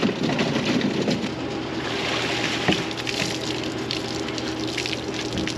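Pickling cucumbers, regular cucumbers and peppers washed under running water after a harvest: a steady, loud gushing splash that continues throughout, with no talking.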